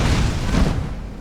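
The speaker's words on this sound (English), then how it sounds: "Oh, I love this fire spell." A fire spell cast in Skyrim, a loud close whooshing burst of flame with a deep rumbling roar that fades out over about a second.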